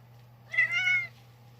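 A cat lets out a single clear meow of about half a second over a low steady hum, close and fairly loud.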